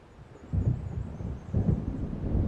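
Thunderstorm in the Alan Wake video game, deep rolling rumbles of thunder in two swelling waves over a constant background of wind and rain.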